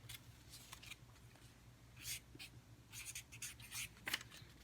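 A pen writing a word on a sticky note, close and quiet, in short scratchy strokes that come in irregular bursts against a faint low hum.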